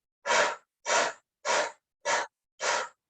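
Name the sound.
breathing out during a stretch class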